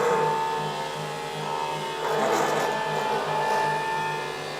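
A drill maker machine running in horizontal oscillation mode gives a steady, close mechanical whir with a faint rhythmic pulsing and a slight rise partway through. It hums on without pause and no one speaks.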